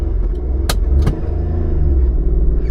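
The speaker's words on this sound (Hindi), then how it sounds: "मैं पंपिंग करूँगा, एक्सेलरेटर की पंपिंग करूँगा।" A manual car's engine revs and rumbles loudly and steadily as the accelerator is pumped during a hill start on a steep slope, with two brief sharp transients over the continuous drone.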